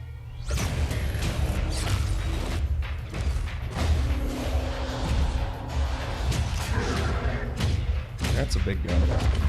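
A big gun firing in a game trailer shown at a Bethesda E3 2016 press conference, heavy booming shots and thumps over a dense rumbling mix, with people talking over it.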